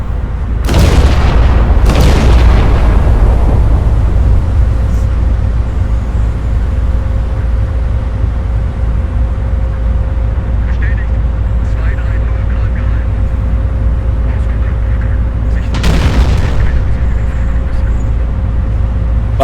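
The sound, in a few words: battleship guns firing in a naval video game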